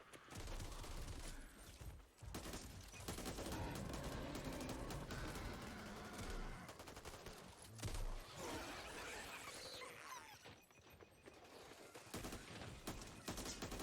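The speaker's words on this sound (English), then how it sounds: "Shooting all the things out the windows" Dense, continuous video game gunfire as weapons shoot out through windows, sustained rattling volleys with brief dips and crashes, loud and cluttered throughout.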